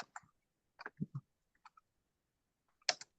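Sparse, irregular keyboard clicks in a quiet room: a few scattered keystrokes in small clusters with pauses between them, close and faint, ending in a slightly louder pair of taps.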